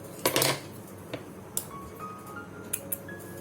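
Scissors cutting blouse cloth: a short burst of snipping near the start, then a few isolated clicks and cuts at close range, with no talking.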